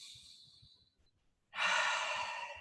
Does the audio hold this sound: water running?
no